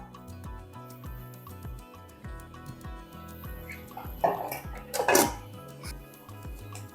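A metal sieve sifting freshly ground rice flour for traditional murukku gives two short rattling, scraping bursts close by, all set under steady rhythmic background music.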